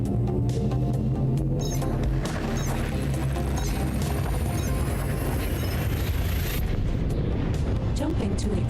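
Hyperspace jump in Elite Dangerous with a rising whine and a heavy rumbling roar, loud and sustained, ending in a booming crash, with a voice talking faintly underneath.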